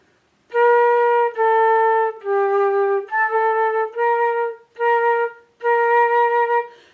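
A flute plays a B note with an odd, slightly off tone, sounding as a string of sustained, clear notes separated by short breaks, with a brief dip in pitch partway through.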